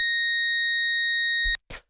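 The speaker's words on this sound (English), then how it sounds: "this is like the classic deep house garage kind of string sound. I've made it synthesized from scratch with operator though" A synthesized deep house garage string tone built from FM sine waves in Operator, playing A sharp, sustains as a clean, bright chord for about a second and a half, then cuts off with two brief closing blips.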